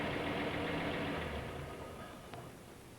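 An overheated car engine with a faulty fan belt idles nearby, a steady mid-low running hum that slowly fades slightly over a few seconds, with no talk.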